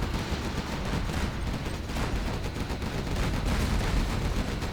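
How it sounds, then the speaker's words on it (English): Dense, continuous battle din from a real-time strategy game, tank units clashing under an EMP blast, loud rumbling bursts and crackling explosions layered without a break and with no talk. "That's an EMP."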